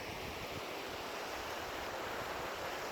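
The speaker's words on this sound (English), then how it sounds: "This beautiful brook and mountains" A mountain brook flows in a steady, broadband rush of water, close and even, with no pauses across the whole stretch.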